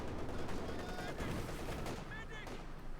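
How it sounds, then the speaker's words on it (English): Machine gun fire in the Company of Heroes 2 strategy game, a dense sustained rattle of bursts among other battle noise, with an excited commentary voice running over it. "Machine gun there, trying to hold down the 3rd Infantryman"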